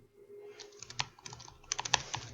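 Computer keyboard typing while ad copy is erased in a funnel-builder page: a quiet run of clicks and taps, sparse at first and then a quicker cluster of sharp keystrokes near the end.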